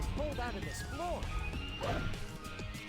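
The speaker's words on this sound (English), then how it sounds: "isn't that a good thing that we're smashing up their technology?" Crashing, smashing impacts of technology being wrecked in the Shadow the Hedgehog video game, several hard hits in quick succession beneath steady talking and game noise.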